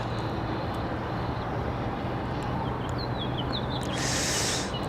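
Coast Aero jet taking off from runway 5 left at Raleigh-Durham airport, a steady broad engine roar filling the scene with a rising whine near the end, no talk.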